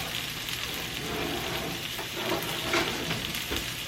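A salmon burger patty sizzles steadily in a pan, a dense, close frying hiss that carries on throughout with small crackles and pops.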